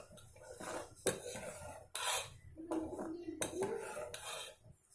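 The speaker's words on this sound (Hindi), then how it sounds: "इसके अंदर थोड़ा धनिया पत्ता को डालिए और अच्छे से मिला लीजिए।" A spoon stirs coriander leaves into tomato dal in a cooking pot, giving scraping strokes and a few sharp metallic clinks against the pot's sides, close and moderately quiet.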